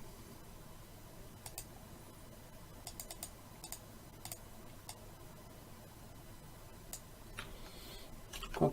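Quiet computer keyboard taps as shortcut keys are pressed while building a website in HTML and CSS, a few scattered clicks and short clusters over a low room hum.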